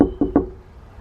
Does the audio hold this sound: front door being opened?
yes